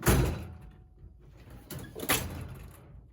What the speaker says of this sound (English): I'm going to show you a clip of me like opening and closing the drawer really hard